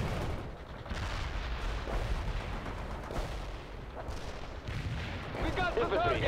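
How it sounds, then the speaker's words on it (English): Artillery barrage explosions in the World in Conflict video game, a continuous dense rumble of blasts and gunfire filling the whole stretch, loud and close, with radio-style voices mixed underneath. "Barrage hit for full effect."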